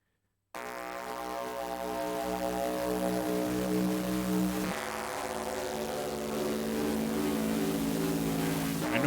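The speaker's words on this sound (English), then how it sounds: "whatever noise was generated for this track was run through the Metaverse Electronics Air Trash pedal, and that's why it sounds so dang gnarly right about now" Dense, harsh noise run through a Metaverse Electronics Air Trash effects pedal drones steadily after a brief silence, thick layered tones grinding loud and continuous with a droning, engine-like texture throughout.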